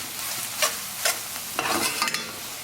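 Chayote and onions caramelizing in a pan for a vegan curry, with a steady low sizzle broken by several scraping stir strokes close by, no talking.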